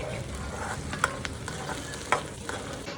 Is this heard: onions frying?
yes